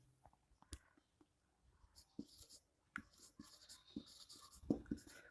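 Marker or chalk strokes on a board during a chemistry lesson on carbon hybridization, faint scratchy taps and short writing strokes in an irregular rhythm, quiet and close with no talking.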